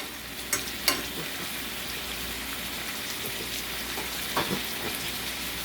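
Chicken sizzles steadily in a pan with balsamic vinegar, a constant crackling fry broken by a few sharp clinks and scrapes of stirring.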